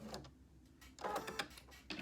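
A sewing machine back-stitching a few quarter-inch stitches at the notch of a shirt box pleat, short quiet bursts of rapid mechanical stitching separated by brief pauses, close up.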